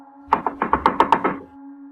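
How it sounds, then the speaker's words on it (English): Frantic knocking on a log cabin door at night: about eight quick, sharp raps in a fast uneven burst, close and loud, over a low steady hum. "there was a frantic knock at the door"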